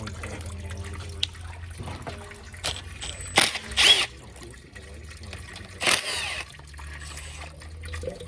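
Old, pitch-black transmission fluid drains out of a 2011 BMW 328 xDrive transmission, giving a steady low trickle with a few louder splashy surges, close up and with no talking.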